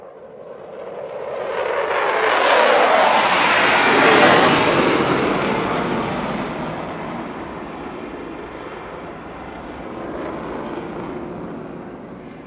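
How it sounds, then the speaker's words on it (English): A Pakistan Air Force fighter jet roars past overhead with afterburners lit, a loud, broad rushing thunder that builds over a few seconds, peaks, and then slowly fades while still rumbling into the distance. "approaching from the left is another magnificent aircraft of Pakistan Air Force"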